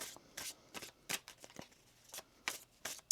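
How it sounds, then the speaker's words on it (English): Tarot cards being shuffled in short crisp riffles, about eight quick bursts spaced irregularly with quiet gaps, close and soft, no speech. "One more shuffle."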